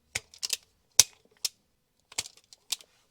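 Sharp, dry clicks of wire being cut and stripped for a fuel pump relay hardwire kit on a turbocharged MX5, a handful of isolated snips spaced irregularly, close and quiet.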